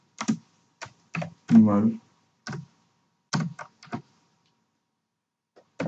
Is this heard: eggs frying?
no